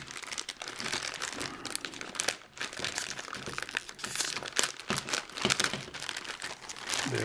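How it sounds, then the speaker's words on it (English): Continuous close crinkling and rustling of the folded plastic bag from a Revell Willys Gasser model kit as the tape holding it shut is cut and the bag is handled. "So maybe I can just cut the tape here."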